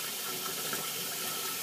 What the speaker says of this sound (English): as you can see, the water's going over the meat